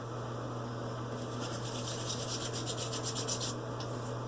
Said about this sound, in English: Rub it in the hands.